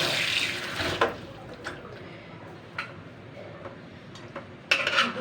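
Running tap water splashing over a dropped beef bone being rinsed in a kitchen sink, a steady wash of water with a few sharp clinks and knocks against the basin, nearby and moderately loud.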